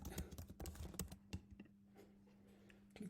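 Rapid clicking of keys on a computer keyboard as a query is typed, a dense burst of close, crisp taps for about a second and a half, then sparser single keystrokes trailing off into a faint steady hum.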